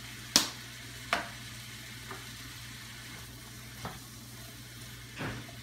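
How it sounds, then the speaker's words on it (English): Vegetables sizzling in a frying pan while being stirred for a chicken and sausage jambalaya, a steady hiss with a few sharp scraping stir strokes at irregular intervals. "So at this point, you're pretty much just stirring your vegetables."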